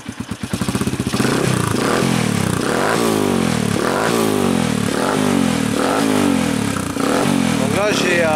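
A 2010 Sherco Black Panther motorcycle fitted with a silencer sputters into life and settles into a loud, steady, throbbing idle with repeated rhythmic revs and some mechanical clatter.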